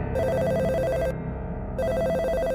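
A house telephone rings in two loud electronic trilling bursts separated by a short gap, steady and close, with no voices.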